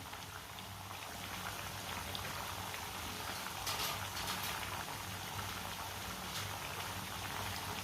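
Chickpeas and chicken cooking in a pan over a medium flame, a steady, even sizzle and bubbling hiss that runs throughout without pause.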